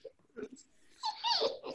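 A dog whimpers and whines in short, rising nasal cries, close and fairly quiet, with soft breathing between them and a voice murmuring nearby.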